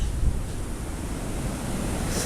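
Pacific Ocean waves wash and roll steadily in a broad surf roar, mixed with wind buffeting the microphone, no voices over it.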